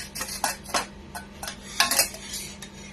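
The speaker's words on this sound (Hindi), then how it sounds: "मैं सीव करके दिखाती हूँ, लम्स निकलेंगे।" Ghewar batter is pushed through a metal strainer, with close, irregular scraping and clinking of a spoon against the mesh and bowl, some strokes louder than others.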